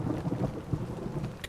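A low, rumbling thunderstorm with steady rain sounds in a video game, faint and short, with the rolling rumble fluctuating throughout.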